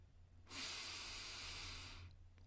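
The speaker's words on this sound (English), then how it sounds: "start to breathe in through your nose and out your mouth" One long, deep breath pushed out through the mouth, a soft airy rush that swells, holds steady for over a second and fades, close and quiet against faint background hum.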